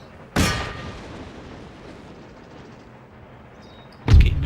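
Hussar cavalry firing guns in an Empire: Total War battle, two sharp loud gunfire bursts about four seconds apart, the first with a decaying rumble, over quiet battlefield ambience.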